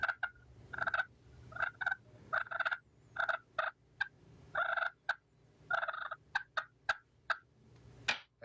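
Slate turkey call worked by dragging a striker across the slate, giving a series of sharp, raspy yelps and clucks in irregular bursts, close and fairly loud over a low background hum, with no talking.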